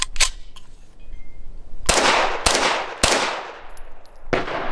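Stribog SP9A3s 9mm pistol firing outdoors, four sharp loud shots in an uneven rhythm, each cracking out and trailing into a fading echo.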